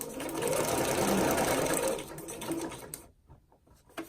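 A sewing machine stitches for about two seconds with a close, busy whir, then slows and stops for a pivot, leaving a few soft clicks and handling noises.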